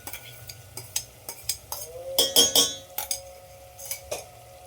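A spoon scrapes and clinks against a pan while stirring a ground masala paste of dry coconut, ginger, garlic and coriander, with repeated metallic taps and a brief faint sizzle.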